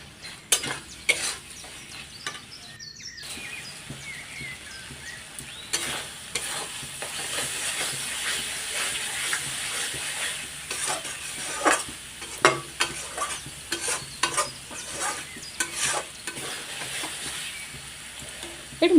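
Masala and tomato sizzling in hot oil while a utensil stirs them steadily in a pan, with continuous frying hiss, repeated scraping strokes and occasional clinks throughout.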